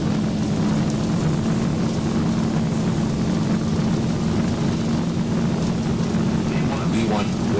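A Boeing 737 in X-Plane 12 holds a steady, loud engine roar with a strong low hum through its takeoff roll at Myrtle Beach. The dense rumble runs unbroken for several seconds with faint voices underneath.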